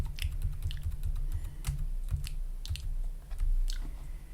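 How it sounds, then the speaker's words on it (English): Light clicks of computer keyboard arrow keys being tapped in an irregular string of quick, close presses, sometimes several in a burst. "tap the left cursor key, so your arrow keys"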